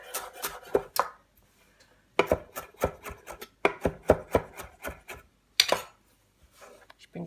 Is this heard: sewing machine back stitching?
no